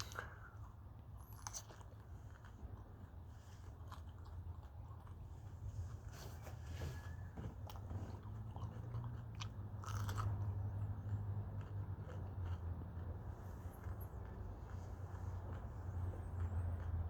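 Someone bites and chews fresh yellow Jamaican Scotch bonnet peppers, with soft crunching and wet mastication close to the mic, faint over a low background hum and without speech.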